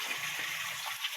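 Hot and cold water pour and splash steadily at a home, a faint, continuous trickling gush with no voices.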